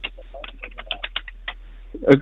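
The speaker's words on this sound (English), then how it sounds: "I'm just typing in the chat." Rapid, irregular clicking of keys on a computer keyboard, a close burst of individual taps ending in a slightly louder clack.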